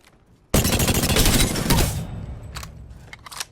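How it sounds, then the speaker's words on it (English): Prowler gun in Apex Legends firing full auto, a loud close burst of rapid shots lasting about a second and a half, then fading into scattered rattles and a couple of short bursts. "So it looks like the Prowler is now full auto."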